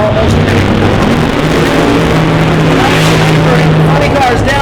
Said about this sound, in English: funny cars down the racetrack